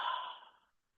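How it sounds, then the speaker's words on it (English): One soft, close out-breath, a short airy sigh that tapers away quickly into silence, no talking over it. "Breathe."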